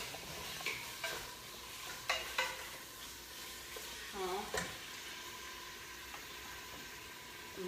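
Beef browning in a pan for stewed okra, with steady stirring and a low sizzle that runs throughout, moderately close, punctuated by a few sharper scrapes and clinks.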